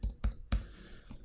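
A computer keyboard clicks under quick typing on a website editor, four or five sharp close keystrokes spaced unevenly.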